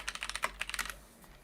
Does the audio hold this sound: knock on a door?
no